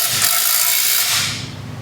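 Ratchet clicking steadily as exhaust tips are tightened on a Nissan GTR fitted with a new Fi exhaust, a close, dense mechanical rattle that runs nearly two seconds before easing off.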